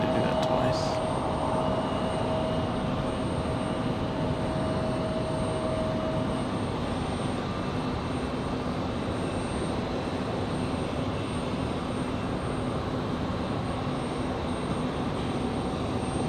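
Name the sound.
aircraft taking off at Raleigh-Durham International Airport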